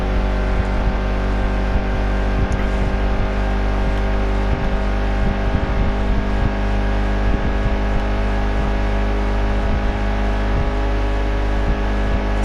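Race car engine in NASCAR Heat 2 at Talladega during a plate race, a loud, sustained, steady drone at high revs with a dense harmonic whine and no audible talk.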